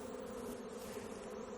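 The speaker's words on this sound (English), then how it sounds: "Get all the field bees to fly away so we can limit it down a bit." Honeybees in an upset colony being moved into a Mann Lake observation hive, a dense steady buzz close by that holds without a break.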